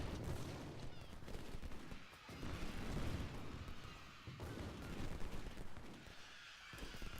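Sustained musket fire from massed infantry lines in the Civil War strategy game Ultimate General: Civil War, at the First Battle of Bull Run: dense, crackling volleys rolling continuously with heavier booms mixed in, steady and moderately distant.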